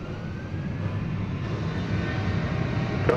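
An American Airlines jet taking off from runway 36 Right at DFW Airport, a steady broad engine roar heard from a distance that swells slightly as it goes on.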